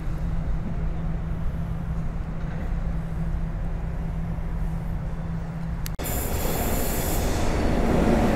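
Freight wagons of a cargo train hauled by an EP07 locomotive roll through Wrocław Nadodrze station, a steady close rumble with a sustained wheel squeal that gives way to a louder, harsher rush of wheels near the end; no voices.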